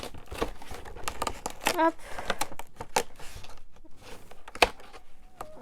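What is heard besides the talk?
tearing a cardboard Stitch advent calendar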